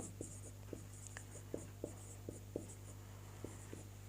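Chalk or marker writing on a board produces a series of short, sharp taps and strokes at an irregular rhythm, faint over a steady low hum, with no talking.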